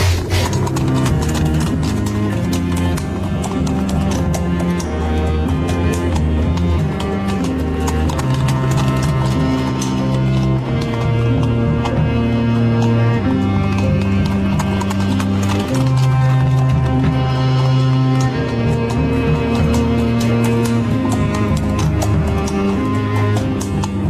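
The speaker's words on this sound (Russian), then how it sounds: "Оседлал Ту-Батор своего аргамака и поскакал за названными братьями." Horse hoofbeats clip-clop at a gallop with an occasional whinny, steady and loud under dense folk music, evoking a hero riding off on his steed in a Chuvash folk tale.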